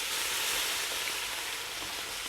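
Woodcocks browning in a pan give off a steady, close frying sizzle, a continuous hiss of hot fat with no voices over it.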